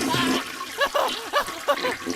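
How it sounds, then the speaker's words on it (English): A toilet flushes with a broad rushing whoosh at first, then gives way to a run of gurgling, bubbling swirls as the water drains, close and fairly loud. "Toilet flush."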